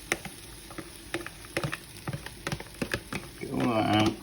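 Dry couscous is tipped into a pan of charred vegetables, landing as a run of small ticks and patters. A hiss rises near the end, with faint background noise throughout.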